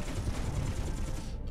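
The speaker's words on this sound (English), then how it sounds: "However, the Gatling cannon's still pretty good." Rapid, sustained Gatling cannon fire in the space game Space Engineers, a dense continuous roar of shots blending into a heavy rattling stream, loud and close with no talking.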